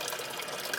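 Water flushes out of a small car heater core under hose pressure, a steady close hiss and gush with no pauses.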